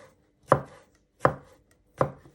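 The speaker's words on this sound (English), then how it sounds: "you want to finally slice it one way and then slice it the other way" Three evenly spaced knife chops strike a cutting board while garlic is sliced for a sweet potato lamb pie, each a crisp close thud with a short tail, alone with no talk.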